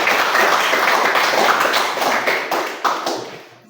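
Classroom audience applauding a student group after its presentation, a burst of dense hand clapping that thins out and fades over a few seconds.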